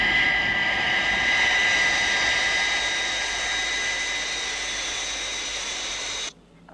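A jet aircraft climbing past Mach 5 at extreme altitude gives a steady, loud engine roar with a high whining tone throughout, cutting off abruptly near the end.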